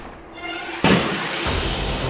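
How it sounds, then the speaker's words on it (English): Gunshot round shattering the back window of a cab in the game Tory: an abrupt sharp crack of breaking glass after a quiet moment, followed by a sustained hissing wash of debris and noise. "the first round shatters the back of the cab"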